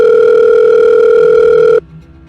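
A telephone line gives a loud, steady, unbroken tone as a call is placed from a bedroom, then the tone cuts off abruptly and leaves faint room noise.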